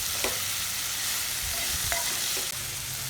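Cluster beans (chammakaya) fry steadily in hot oil, a continuous close sizzle with a few faint clicks of stirring, no voices.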